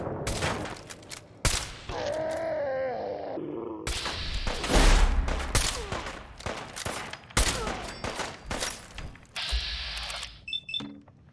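A machine gun turret fires in bursts in Fallout 4, loud rattling volleys broken by short pauses, with other clanks and game sounds in between.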